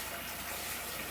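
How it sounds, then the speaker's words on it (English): Tap water runs steadily into a pot at a kitchen sink, a continuous close rushing pour with no pauses or talk. "I'm gonna put a little water on the pot so that it's easier to clean later"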